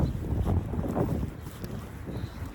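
Outdoor breeze buffeting the microphone in low rumbling gusts, loudest at first and then easing a little, with no clear other sounds.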